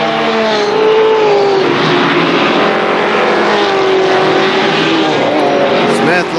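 ARCA SuperCars race cars at KilKare Speedway roar past, engines droning and shifting pitch in a loud, continuous blare while a race announcer talks over them.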